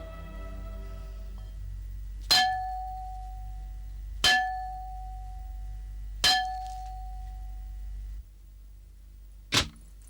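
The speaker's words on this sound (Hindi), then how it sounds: "तुमने ये घंटा बजाया है?" Large metal bell struck four times at about two-second intervals, each clang ringing with a sustained tone that decays, the last strike shorter and sharper, no voices.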